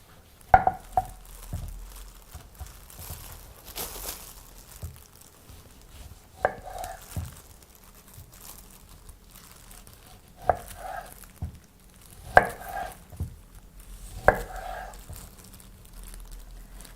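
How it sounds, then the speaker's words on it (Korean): A knife thinly slices Beni Madonna citrus, peel and all, for marmalade, making close, crisp board taps that come in small irregular clusters with long quiet stretches between. "얇게 썰어 볼게요."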